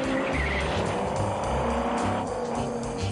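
Car chase from the film Bullitt between a Dodge Charger and a Ford Mustang: loud roaring engines with rising and falling revs and squealing tires, continuous and close, without talking.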